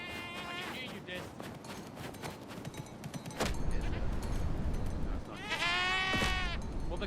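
A goat in a video game bleats twice, with a thumping burst between the cries, under steady game noise and players talking.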